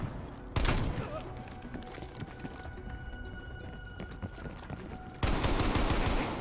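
Rapid bursts of gunfire from Call of Duty Black Ops Cold War crackle loud and close in dense volleys, easing briefly before another heavy burst. Shotguns are in play.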